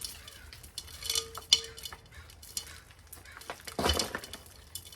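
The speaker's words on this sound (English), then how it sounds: "Let's see if we can shake out that gravel into the pot." Gravel shaken out into a plant pot while repotting a geranium, giving scattered rattling clinks and small pebble clatters, with one louder burst of tumbling stones near the end.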